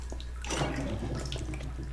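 Water sloshes and splashes in a bathtub as it is searched in Resident Evil 7, a steady close wet churning with a few drips and no voices.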